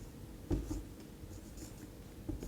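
Pen or chalk writing out a sentence during an English grammar lesson, a faint scratchy stroke with a couple of brief taps over quiet room noise, no talking.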